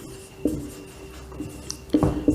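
Chalk scratching across a board during a physics lesson, a few short scraping strokes, with the loudest bursts near the start and again toward the end over a quiet room.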